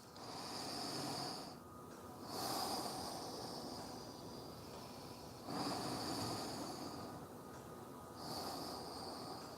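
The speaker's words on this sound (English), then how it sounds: "deep breaths." Long, deep breathing during yoga, slow breaths heard close to the microphone, with airy inhales and exhales alternating in a steady rhythm of about four cycles, with no talk.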